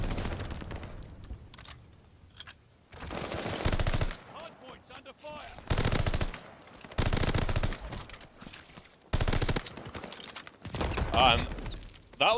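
Bursts of automatic assault rifle fire in Call of Duty Vanguard on the Gavutu map, loud close-range volleys broken by short gaps, with game effects and ambient clatter between bursts.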